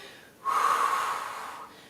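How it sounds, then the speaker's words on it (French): A single forceful breath exhaled through the mouth during an abdominal workout, a short breathy rush that swells quickly and trails off over about a second. "Et je souffle."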